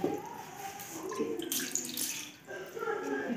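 Water poured from a vessel into dough-making in a kitchen, a splashing, trickling pour with bursts of brighter splash, heard near and moderately loud; no speech in the moment.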